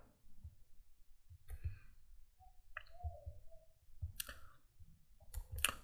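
Sharp computer mouse clicks while working in PLC programming software, a few scattered single and double clicks over a low, steady room rumble, with no talking.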